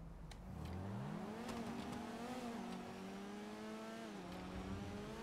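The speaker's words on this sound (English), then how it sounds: "Let's see what the acceleration is like" A sports car in GTA 5 accelerates hard from a standstill, its engine note rising steadily through the gears with a brief dip at a shift, loud and continuous throughout.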